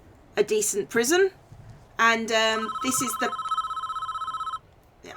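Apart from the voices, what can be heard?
telephone ringing in the video game Prison Architect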